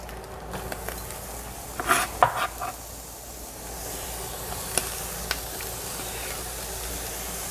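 Mushrooms go into a frying pan beside browned steak for steak alla pizzaiola, setting off a sharp burst of clatter and sizzling that settles into a steady, close hiss with occasional ticks and pops.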